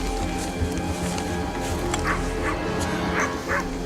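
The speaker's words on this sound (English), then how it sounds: "you can tell they're holding the dog because it keeps growling and stuff" A dog inside a house yips, whimpers and barks in short muffled bursts, heard from somewhere off at a distance over a low steady background hum.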